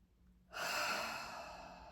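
A single deep breath drawn in then slowly released, close and breathy, rising suddenly from near silence and tapering off, with no talking.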